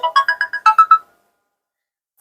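A mobile phone ringtone plays a bright melodic sequence of about eight quick notes for an incoming call, then cuts off into silence.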